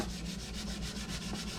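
A sponge rubs against the inside of a ceramic slow cooker crock in a steady back-and-forth rhythm, close and continuous.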